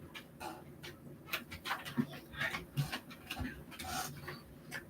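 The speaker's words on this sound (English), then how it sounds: "This is my dog, everybody. Iris. Say hi." Iris, a pet dog, makes faint whimpers and snuffles close by, mixed with light ticking and tapping noises in a quiet room.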